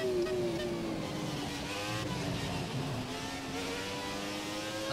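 A Formula 1 car's engine on a flying lap at the Malaysia circuit in the F1 2017 racing game, a steady high-pitched whine that climbs through the gears and shifts pitch, heard alone at moderate volume.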